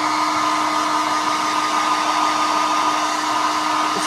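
A hair dryer runs at a steady, loud, unbroken whir while drying a milk paint finish on a furniture top, with no voices over it.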